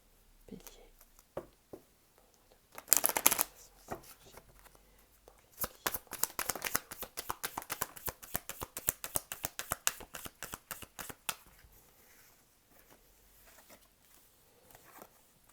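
A Lenormand card deck is shuffled up close: a few soft handling taps and rustles, then a rapid, crisp run of card flicks lasting several seconds before it settles back to quiet handling, with faint low talk in places.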